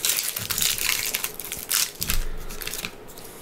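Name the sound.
opening Magic: The Gathering Guilds of Ravnica booster pack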